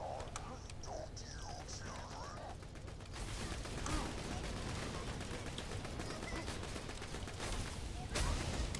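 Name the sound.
gunfire from the Fire Infinity weapon in Borderlands 2 video game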